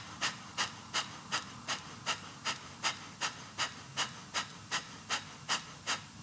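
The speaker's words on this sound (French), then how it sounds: "C'est j'inspire, j'expire de manière rapide et de manière active. J'inspire activement, j'expire activement" Rapid, forceful yoga breathing exercise: a steady run of about sixteen sharp, hissy breath bursts at a quick, even rhythm, close and clear with no talking.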